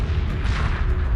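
A missile detonates in the space strategy game Homeworld 2 Remastered, a dense, rumbling boom that fills the short moment loudly with no talk.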